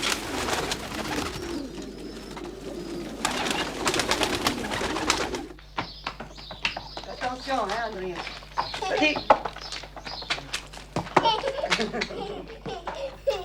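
Pigeons kept at the home of a man who also works at a winery, soft cooing and fluttering calls mixed with chirps, fairly near, under a steady outdoor ambience.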